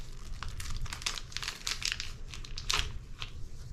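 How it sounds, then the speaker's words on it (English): A package of organic vanilla beans being cut open, giving close, steady crinkling and crackling of packaging with sharp bursts of rustle throughout, no voices. "I am going to literally cut this open and just drop in some beautiful vanilla"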